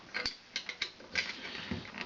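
A nut being loosened by hand on a CD28-41-70 antenna base, a series of close, sharp ratcheting clicks and gritty creaks in uneven bursts.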